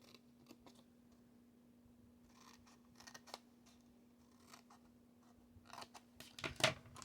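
Scissors snip through paper while a tape dispenser is being made, with quiet scattered rustles and clicks, a steady faint hum underneath, and a sharper cut near the end.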